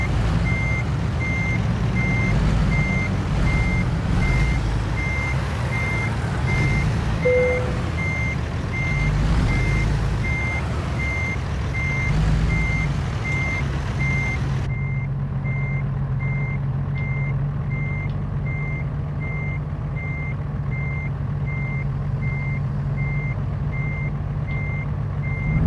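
A truck in American Truck Simulator backs in while its reversing alarm beeps steadily and repeatedly over a constant low engine drone, with a brief air-brake hiss near the middle and the rumble thinning after the halfway point.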